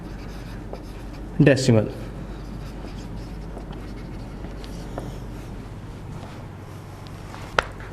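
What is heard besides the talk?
writing the answer on the board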